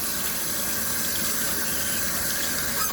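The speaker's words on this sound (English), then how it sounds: "Wash that gross stuff off my hands." Water runs steadily from a tap into an old vintage sink during handwashing, a close continuous splashing gush with no talking.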